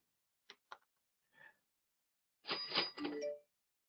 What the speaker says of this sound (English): You're gonna hear the alert